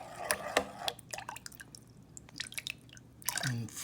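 Olive oil and vinegar drip and splash as a jar of preserved eggplant is filled, with soft irregular wet clicks and small clinks, quiet and close with no voices.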